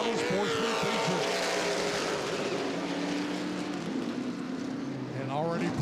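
Late model sportsman race cars roar around Anderson Speedway during a CRA feature race, a dense wall of engine drone with shifting pitches from several cars, while an announcer talks over it.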